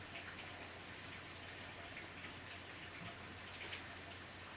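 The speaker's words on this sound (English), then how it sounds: "It is very rainy out. You can probably hear it on the roof of my workshop here." Steady rain drums on the roof of a workshop, a dense, even patter that stays faint and continuous throughout with no voices.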